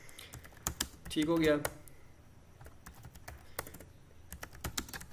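Keys tapped on a computer keyboard while a name is entered, scattered quick clicks across the clip with a brief burst of speech near the start and soft room noise beneath.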